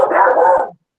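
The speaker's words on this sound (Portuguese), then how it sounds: "Quem está com o microfone aberto aí, o cachorro está falando também." A dog barks once, a single drawn-out yowling bark picked up through an open microphone during an online meeting, close and fairly loud, then silence.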